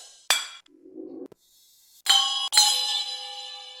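A crash cymbal sample from the Wave Alchemy Triaz drum plugin, triggered several times. Bright, sharp crashes ring out and decay, the last hits sounding loud and shimmering, with short quieter tones between them and no talking.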